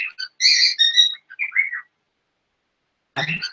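Pet bird squawking and chirping in short bright bursts, a quick run of whistly calls followed by a pause and then a harsher squawk, close and fairly loud, no talk.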